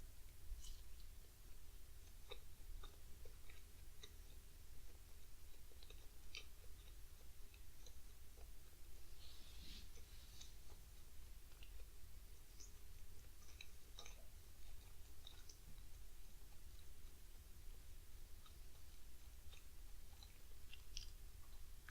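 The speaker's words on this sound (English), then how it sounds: "Sorry to chew so long, but I'm trying to chew my food more" Chewing food during a mukbang of sausage, fried potatoes, mango and pineapple, faint close-up mouth clicks and soft chewing sounds scattered over a steady background hiss, with no talk.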